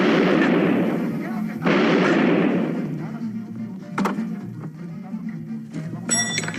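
Loud gunfire during a police confrontation over a knife-armed suspect, with a few heavy booming shots and sharp cracks echoing amid shouting and noise, close and intense.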